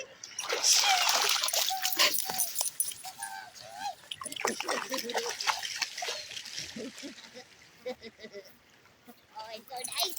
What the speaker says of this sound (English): I don't know if Sadie can swim.